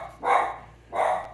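A house dog, riled by the postman, barks twice at mid distance, two separate gruff woofs about three quarters of a second apart, with quiet room tone between them.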